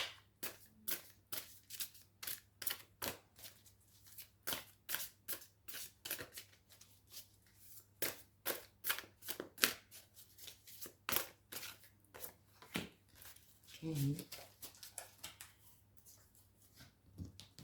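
Twin flame tarot cards shuffled by hand in a long run of crisp, rapid riffling bursts with short pauses between, close and fairly quiet, with no talking.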